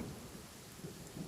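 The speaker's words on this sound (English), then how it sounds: "Uh-oh! Lightning storm!" A thunderstorm rumbles with steady rain in Genshin Impact, a low continuous roll of thunder under a dense hiss of falling rain, fairly faint and distant, lasting only a moment with no voices.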